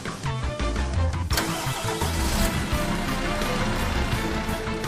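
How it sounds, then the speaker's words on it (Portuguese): The engine of a MAN TGX truck cranks briefly and then catches. It settles into a loud, steady, rumbling idle heard close up with no talking. "Ao ligar o motor, não faça qualquer aceleração"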